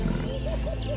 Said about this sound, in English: A roar shatters the silence of the savanna